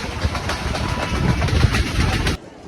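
A train runs into Pindi railway station, its loud, rhythmic clickety-clack rolling close for a couple of seconds before cutting off abruptly, with faint bird calls in the background.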